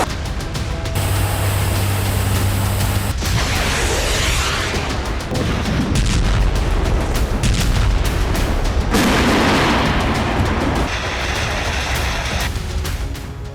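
Russian artillery pounds positions in Ukraine, heavy booms and rumbling blasts rolling one after another, loud and continuous with a dense crackling wash over the whole stretch.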